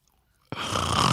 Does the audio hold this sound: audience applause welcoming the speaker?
no